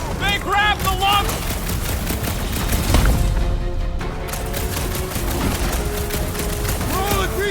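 Rapid gunfire from a player's weapons blasts at a huge robot enemy in Marvel's Guardians of the Galaxy video game, loud and continuous bursts mixed with booms, with character voices talking over the shooting.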